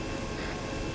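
Mi-24 Hind helicopter in the military game Arma 3, a steady dense rotor and engine roar that fills the short moment at constant loudness, with no talk.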